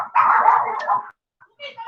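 A dog lets out a strained, whining bark-like cry for about a second, loud and close, followed by a short pause and a fainter yip.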